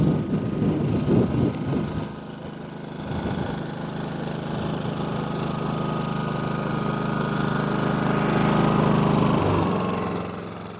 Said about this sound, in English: The GENMAX 6000 dual fuel generator